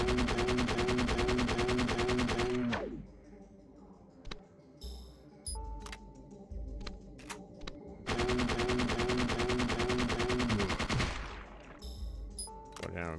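Sustained rapid gunfire in Parasite Eve II, two long dense bursts of shots separated by a quieter stretch with scattered single clicks and impacts.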